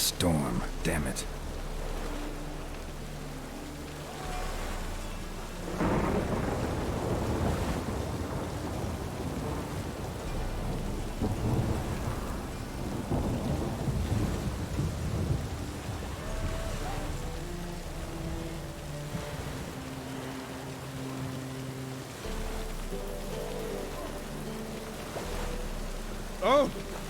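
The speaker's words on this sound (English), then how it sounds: "The storm, damn it." Steady rain and low rumbling thunder fill a thunderstorm in the video game Witcher 3, with the storm noise rising and falling under soft background music and a brief voice.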